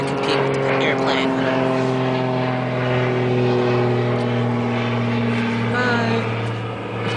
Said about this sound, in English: as the airplane interrupted us